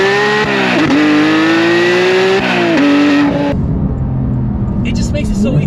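A Porsche GT3 Touring engine revs hard and climbs in pitch as the car accelerates into a bend, then drops away to a lower rumble, loud and close throughout.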